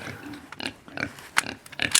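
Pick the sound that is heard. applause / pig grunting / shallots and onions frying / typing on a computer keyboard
pig grunting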